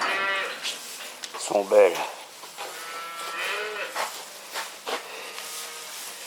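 Cows moo in a busy barn housing around 240 to 280 dairy cattle, one loud close call rising over a chorus of shorter lows and rustling, with a person speaking French at the same time.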